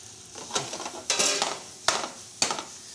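Mushrooms, garlic and hot pepper cook in a pan, with four or five sharp bursts of sizzling and scraping as the mix is stirred, separated by quieter frying hiss.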